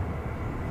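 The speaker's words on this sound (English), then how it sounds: "That was American 569 from Sacramento, an Airbus A321" Airbus A321 airliner with American livery passing overhead at DFW Airport, a steady broadband engine roar with strong low rumble, sustained and fairly loud without a break.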